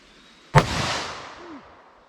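A single loud gunshot from a .357 or .44 Magnum handload, a sharp boom followed by a long rolling echo that fades over about a second and a half, heard outdoors with no voices.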